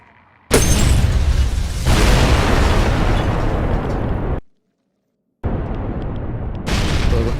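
A massive, roaring explosion in Fallout 3 erupts abruptly, holding loud and dense for several seconds before cutting to silence, then another thunderous blast bursts back in.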